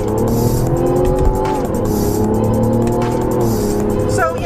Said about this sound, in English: We'll go down to second. See, a little slow with the downshift.